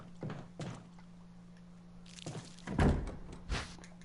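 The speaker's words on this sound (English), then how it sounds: "There was the door going." A door opening or closing in the Resident Evil REmake video game, heard as a few dull thuds and a heavier thunk near the end, fairly close with quiet gaps between.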